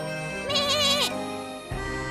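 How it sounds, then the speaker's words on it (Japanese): A lamb in the video game Labyrinth of Refrain bleats once, a close, wavering cry with a rising and falling pitch, over a steady game music backdrop. "羊さんですよ、ドロニア様。"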